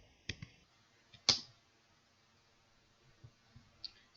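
A few sharp key clicks on a computer keyboard as a short command is typed, sparse taps spread across a quiet background, one noticeably louder.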